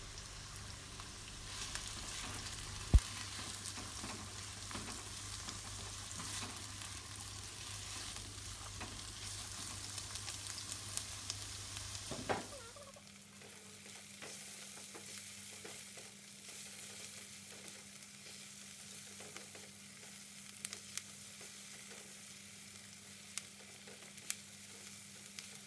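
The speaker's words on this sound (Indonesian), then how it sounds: "tumis bawang bombay dan bawang putih sampai harum" Onion and garlic sautéing in a pan for tempe, a steady sizzle and frying hiss with occasional stirring clicks and scrapes, which drops to a quieter, thinner sizzle halfway through and runs without talk.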